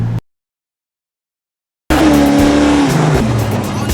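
A car with a 383 stroker small-block motor and a 150 shot of NOS roars in after a sudden silence. Its loud, close engine drone carries squealing tires and a falling pitch sweep as it passes.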